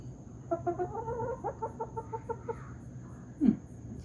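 A chicken clucks in a quick run of close, rhythmic calls, then a single louder squawk after a pause, over a low steady background hum.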